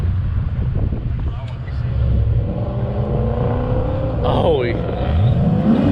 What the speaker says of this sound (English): Look, he accelerated about as fast as that RAV4.